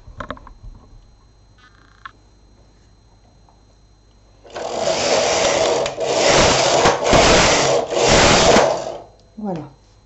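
A knitting machine runs several back-and-forth carriage passes, knitting rows of waste yarn as loud, rushing mechanical swishes in four bursts with brief pauses, close by, after a quiet start with small clicks.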